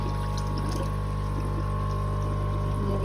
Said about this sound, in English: Pour a bit of water of it in.